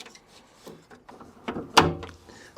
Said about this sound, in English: Okay, this is the door open. This is the lock unlock.